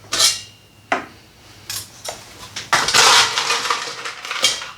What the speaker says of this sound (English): And that's just going to chill the martini glass and put some ice in here.